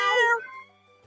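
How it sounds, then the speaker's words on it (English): A pet cat meows once, close and fairly loud, its tone fading quickly into quiet. "I have a cat meowing at me."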